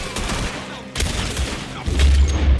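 Gunfire rings out in the Western video game Red Dead Redemption 2 in a loud, close fusillade. Sharp shots crack at intervals and a heavier boom lands near the end.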